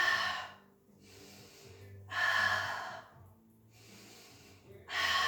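Heavy, audible breaths during a floor exercise with arms flapping, head and shoulders lifted, come in a steady rhythm of about four close, loud exhalations and inhalations with quiet gaps between them.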